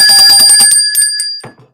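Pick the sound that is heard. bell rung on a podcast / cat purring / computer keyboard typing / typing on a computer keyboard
bell rung on a podcast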